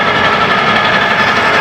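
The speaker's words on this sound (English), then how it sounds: "This has a 6-cylinder Continental engine in it." A vintage Massey Harris self-propelled corn picker with a six-cylinder Continental engine runs at a steady, loud drone, close by and without pause, out in the field during corn harvest.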